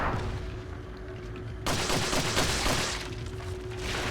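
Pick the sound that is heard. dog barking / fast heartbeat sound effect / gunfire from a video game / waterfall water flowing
gunfire from a video game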